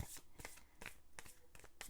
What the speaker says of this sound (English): It's just moving the cards around, really